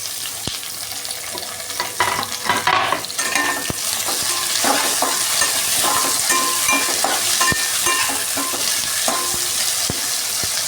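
Tomatoes and green chillies fry in oil for a chicken fry, giving a continuous sizzle broken by repeated stirring scrapes and light clinks of a spoon against the pan.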